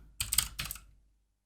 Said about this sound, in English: in the search box, you're going to type in